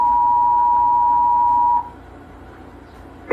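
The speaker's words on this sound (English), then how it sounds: "He picks up the phone to call his dad." A steady telephone dialing tone sounds for nearly two seconds as a man calls his dad, then cuts off to a quiet line, with a short faint blip at the end.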